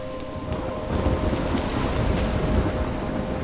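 Storm wind in the video game Life Is Strange, a steady, loud broadband roar with gusty swells and no speech.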